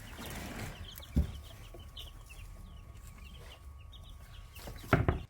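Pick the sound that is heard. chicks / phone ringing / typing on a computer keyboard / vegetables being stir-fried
chicks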